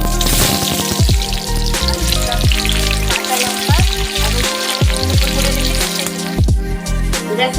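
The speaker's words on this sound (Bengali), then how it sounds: "দেখো দেখো তেলটাও গরম হয়ে গেছে এবার আমি যে পেঁয়াজ কুচিগুলো" Chopped onions fry in hot oil with a loud, continuous sizzle and crackle throughout, with no talking.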